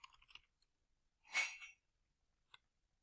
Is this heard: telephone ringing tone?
no